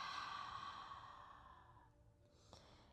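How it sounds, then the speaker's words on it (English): A slow, soft exhale through the nose during gentle yin yoga, a faint breathy rush that fades out over a few seconds, followed by near quiet. "inhale through the nose and exhale"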